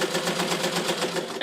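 A hand-crank sewing machine being turned as fast as possible, making a steady, fast, rhythmic mechanical clatter that runs continuously at close range.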